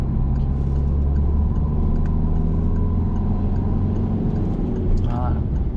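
A car engine in a driving video game, played with a steering wheel setup, accelerating with a loud, continuous mid-pitched rumble that holds steady throughout, with a voice over it.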